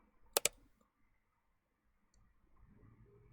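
A pair of quick, crisp mouse clicks close together, made while clicking the split icon in CapCut on PC, followed by quiet room noise and a faint low rumble.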